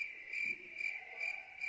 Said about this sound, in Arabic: وتدخل مقر أشلي ماديسون تسمع صرصور الغيط